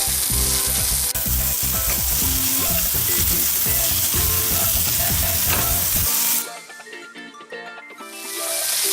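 Oil crackles and sizzles loudly in a pan with a dense frying hiss, then drops off sharply and returns faintly near the end.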